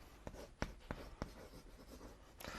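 Chalk or marker strokes on a classroom board during an ecology lecture, a handful of sharp taps and scratchy streaks in an uneven rhythm, fairly close and quiet, with no talking.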